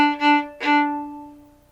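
A violin's open D string is bowed three times, one down bow and then two up bows of about equal length. The notes are close and clear, the last one fading out alone.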